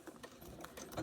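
A sewing machine stitches a paper pieced flower block, a quick faint run of mechanical needle ticks in a rapid rhythm, heard close but soft.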